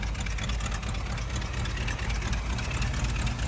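A Dodge engine with a carburetor and a newly swapped alternator idles steadily, a continuous low rumble held close and even, with no talk over it.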